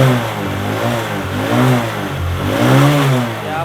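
A Honda CD 70 motorcycle with a fused-headlight-bulb fault revs close by, its small engine climbing and falling in pitch through two throttle swells over a steady idle.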